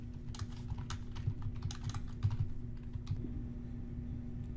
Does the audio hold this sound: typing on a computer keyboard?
yes